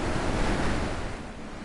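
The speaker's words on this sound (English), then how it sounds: "Okay, here's the waterfall." Steady rushing roar of a waterfall in the video game The Witness, dense and continuous, loud and close with a broad wash of noise and no talking.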